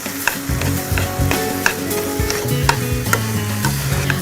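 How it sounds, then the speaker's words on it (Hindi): Grated carrots frying in desi ghee in a pan, a steady loud sizzle broken by repeated scraping and clacking strokes of a spoon stirring close by. "इसमें मैं डालूंगी 2 से 3 चम्मच देसी घी। एक बार इसे फिर भून लें।"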